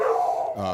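Dogs bark in the background during a podcast-style conversation, heard as a short, muffled yip-like burst with harmonic tone that trails off quickly.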